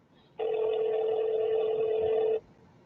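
One steady electronic ring tone on a telephone line, lasting about two seconds, clear and alone over faint background hiss.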